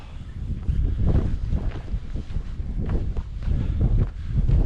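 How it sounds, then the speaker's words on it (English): Gusty wind roars and buffets the microphone on a snowy country walk through Sheffield's Porter Valley. The rushing is steady and loud throughout, with no voices. "That wind's certainly picking up though."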